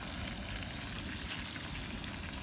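Pomfret fish fries in a pan of oil on a gas stove at a farmhouse, giving a loud, dense, continuous sizzle with no break and no talking.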